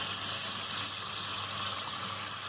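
Tap water runs steadily over cranberries being rinsed in a kitchen, a constant close gushing hiss without pauses and no voices.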